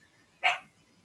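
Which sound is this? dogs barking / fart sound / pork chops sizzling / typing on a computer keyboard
dogs barking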